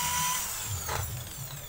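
A slow-spinning drill grinds with sandpaper on a part of a Yamaha Mio scooter, a low, rough whirring close by with a brief brighter scrape midway and no talking.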